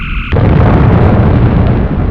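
Sci-fi phaser fire destroying a target, a short tone cut off by a loud close explosion that rumbles on heavily as a sustained blast.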